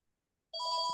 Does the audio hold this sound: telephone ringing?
yes